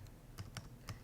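Quick keys tapped on a computer keyboard, a few soft clicks spaced irregularly over about a second, close and faint, with no talking.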